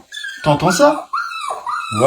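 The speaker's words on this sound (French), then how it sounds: "C'est un chien qui aboie de détresse." A distressed dog locked in a car gives out whimpering, yelping cries in short bursts, loud and close, mixed with people talking.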